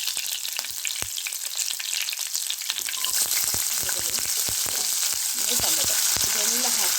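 Garlic, mustard seeds, cumin and curry leaves fry in hot oil, a steady bright sizzle running throughout with repeated sharp scrapes and clacks of stirring, growing slightly louder partway through.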